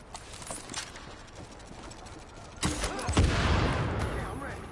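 Explosion and gunfire in The Division, a burst of sharp shots followed by a loud, sustained broadband blast that rumbles and fades over several seconds.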